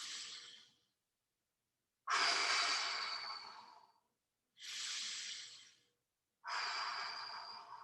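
Slow, deliberate breaths during a muscle and mobility exercise: four long airy exhales and inhales, each lasting one to two seconds with near silence between, close and clear.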